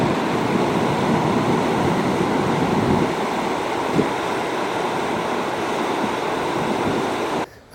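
Raging river falls on the Mississagi River, a steady, loud, broadband roar of rushing whitewater that continues unbroken nearly to the end.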